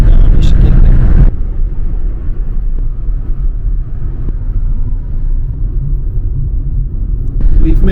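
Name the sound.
car driving to Alqosh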